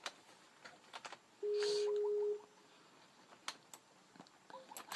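A Skype call rings out as a steady electronic tone lasting about a second, with faint scattered clicks and light room noise around it.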